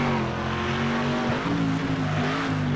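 A race car engine in the Next Car Game driving game howls loud and close on the final lap, its pitch sliding up and down as it revs through a corner, with a faint tire scrub beneath it.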